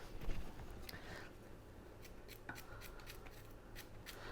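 A knife slices bananas into a salad bowl in soft, irregular cuts, with scraping and rubbing sounds close by and no talking.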